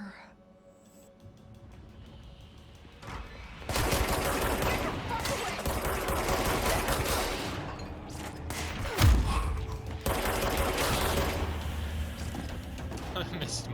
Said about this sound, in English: I missed most of those shots